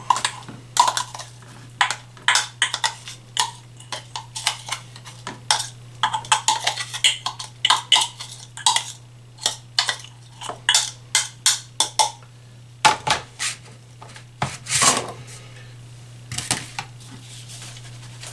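A spoon scrapes and drags homemade onion powder out of a container in a series of close, short, irregular scratches and clinks against the vessel, with brief pauses between strokes and a steady low hum underneath.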